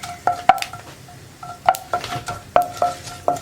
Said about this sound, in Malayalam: വെളുത്തുള്ളി ഒന്ന് നന്നായിട്ട് കുക്കായി വരുന്നത് വരെ ഒന്ന് ഇളക്കി കൊടുക്കുക